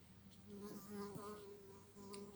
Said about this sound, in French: cette conne de mouche, là